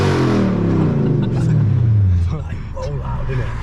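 A straight-piped Audi S4 exhaust revs loudly and close, its pitch climbing in a drawn-out rise before dropping off, while people talk over it.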